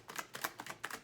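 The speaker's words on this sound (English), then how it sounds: "One more shuffle." Angel cards being shuffled, quiet rapid riffling bursts in an uneven rhythm, close and faint with no voice.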